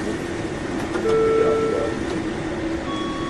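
A fryer timer at a McDonald's kitchen sounds steady electronic beeps over a constant loud hum of kitchen equipment and exhaust fans.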